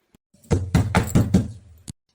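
Rapid knocking on a door in an animated story, several firm raps in quick clusters followed by one last sharp knock, close and loud with no voices.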